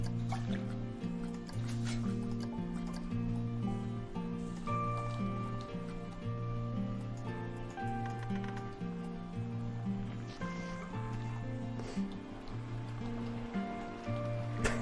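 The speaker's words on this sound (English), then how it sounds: "It's the saddest boat soundtrack of all time." Gentle melodic music plays on a boat ride in the Planet Coaster video game, a slow, repeating pattern of soft sustained notes at a steady moderate level, with faint watery drips and no talk.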